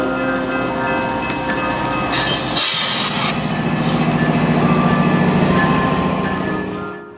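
A Norfolk Southern local freight train rumbles past close by, with steady wheel and wagon noise, a rhythmic clickety-clack building in the middle, and a brief hissing burst partway through before the sound fades out at the end.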